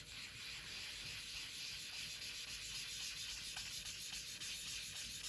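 An ink blending tool rubs ink onto a card in repeated soft, scratchy strokes, making a steady close hiss with faint rhythmic scuffs.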